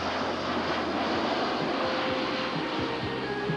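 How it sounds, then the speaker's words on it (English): Steady broadband drone of a converted F-27 turboprop airliner fitted as a forest fire bomber with retardant tanks, a continuous engine roar with faint tonal whine, no talk. "a converted F-27 turboprop airliner equipped with fire-retardant tanks"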